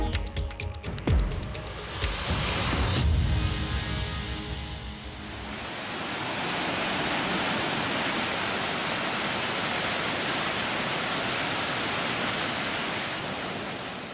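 Broad, steady roar of a large volume of river water rushing through the Sharda barrage in flood, continuous and loud, preceded by a few seconds of bumps and handling noise.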